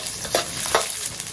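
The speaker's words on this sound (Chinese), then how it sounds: "锅中加油，干辣椒、八角、蒜爆香" Dried chili, star anise and garlic stir-fried in hot oil, a steady close sizzle with a couple of brief scraping stirs of the spatula through the wok.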